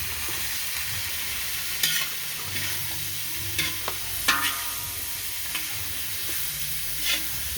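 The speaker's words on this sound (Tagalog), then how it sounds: "At siyempre, haluin din na mabuti." Lugaw being stirred in a pot along with two large pieces of chicken, a steady scraping and sloshing with soft sizzling underneath and a few louder clunks of the spoon against the pot.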